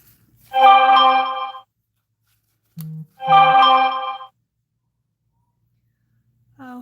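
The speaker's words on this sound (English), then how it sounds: "I've got some text messages coming through and I forgot to turn that down so y'all don't hear it" Phone text-message alerts chime twice, bright melodic tones about two seconds apart, each followed by a short low buzz, then a third alert begins at the end in an otherwise quiet room.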